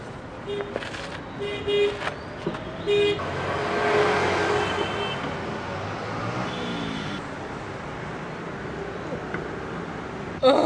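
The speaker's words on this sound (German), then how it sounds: "Reifen wechseln im lauten Stadtverkehr hier." Loud city traffic flows steadily around a roadside tyre change on an overland vehicle, with repeated car horn toots and beeps early on, passing engines and a busy rumbling roadway throughout.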